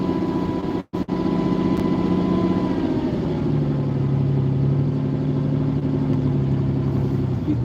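A Lamborghini Countach engine idles close by with a steady, deep mechanical hum, broken by a brief dropout near the start before the note settles lower and holds evenly.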